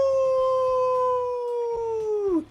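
A person imitates a wolf howl with their voice: one sustained, steady howling tone that drops in pitch and trails off at the end, loud and close.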